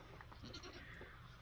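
A goat and a dog scuffling on a homestead barnyard, faint bleating cries and scuffling over steady background noise, very brief.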